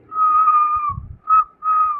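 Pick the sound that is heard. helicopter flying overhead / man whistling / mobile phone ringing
man whistling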